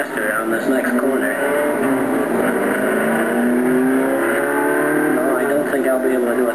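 Racing car at Mont Tremblant in 1964, engine droning steadily and close throughout as it runs behind another car and brakes toward a corner, with a voice talking over the engine noise.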